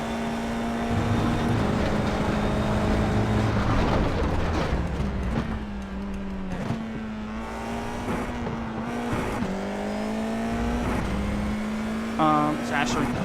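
Race car engine lapping Circuito de Jerez in the sim racer iRacing, a steady droning hum rising and dipping through gear changes and corners, with brief tyre scrub, running continuously under a voice.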